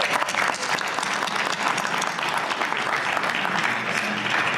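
Sustained applause from a nightclub and bar show audience fills the room, thick and even clapping with some cheering mixed in, holding steady for several seconds.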